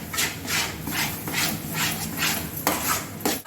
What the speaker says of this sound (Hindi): इस टाइम पे ध्यान से चलाना है, नहीं तो ये नीचे नीचे लगने लगेगा